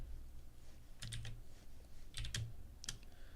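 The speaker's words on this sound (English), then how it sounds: "that's also one thing that's great about mechanical keyboards" Keys clack on a mechanical computer keyboard in three quick bursts of typing separated by pauses, close and crisp with no voices.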